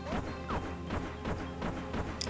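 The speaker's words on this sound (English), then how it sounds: "Gotta work on dodging my crashing starships." Crashing starships in Mario & Luigi: Partners in Time, a quick series of repeated smashing impacts at a steady rhythm over a constant game tone.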